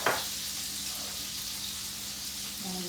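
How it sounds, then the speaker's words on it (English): Butter melting with water and lemon juice in a pan gives a steady, soft sizzle and hiss that runs unbroken for a few seconds, close by and fairly quiet. "Once the butter gets melted, it has to sit and splatter like I thought it might."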